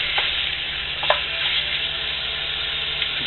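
Meat browning in a pot for authentic Texas chili, chuck wagon style, sizzles in a dense continuous hiss with a few soft stirring knocks, close and steady, no talking.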